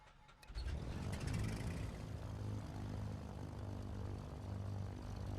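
A propeller aircraft engine cranks and catches in Microsoft Flight Simulator, rising from quiet into a loud, steady droning rumble with a throbbing low pulse that holds for several seconds, heard alone without talk.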